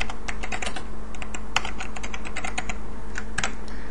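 Typing text on a computer keyboard, rapid irregular key clicks tapping close up with a steady hum underneath, no voice heard.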